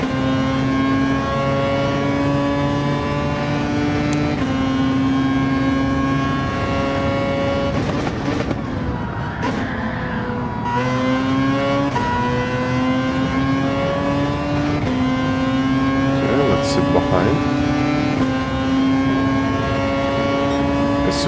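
Race car engine in Gran Turismo 7 droning loudly and steadily, revving high with pitch climbing and then dropping at several upshifts through the gears, continuous throughout.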